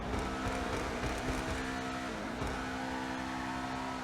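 In GTA Online, the engine of a Benefactor SM722 sports car hums with a steady, low rumbling drone that holds at a constant loud level throughout, with no voices.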